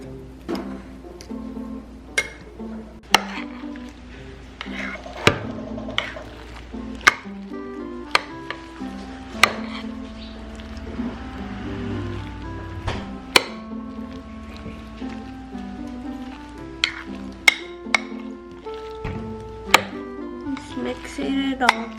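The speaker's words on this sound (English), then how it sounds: "Mixing it all together." Japanese mashed potato salad with Japanese mayonnaise is stirred in a bowl, with sharp spoon knocks and scraping clinks recurring unevenly over a steady soft background, quite close.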